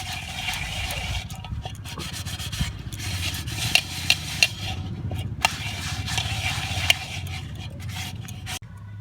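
Steady rubbing and scraping as a brass puja lattice piece is scrubbed with a homemade cleaning powder, a continuous close gritty scour with a few sharper knocks along the way.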